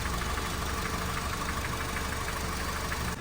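A car engine idles steadily close by with a constant mechanical drone and faint knocking throughout.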